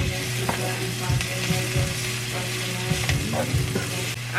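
Chopped garlic frying and being stirred in a pan for a vegan Caribbean-style curry, a steady close sizzle broken by scraping stirs, with no talk.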